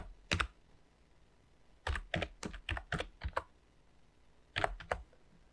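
Bursts of quick keystrokes on a computer keyboard as a domain name is typed, close and crisp, in three clusters separated by short pauses, no talking.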